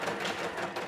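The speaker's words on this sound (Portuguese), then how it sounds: "as máquinas de costura solares tornam tudo mais fácil" A solar-powered sewing machine runs steadily with a dense, continuous mechanical whirr and rapid needle chatter, close and fairly loud over its brief span.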